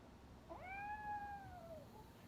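A cat named Grumpy in the video game RoboCop: Rogue City lets out a single drawn-out meow that rises and then slowly falls, faint against a quiet background hum.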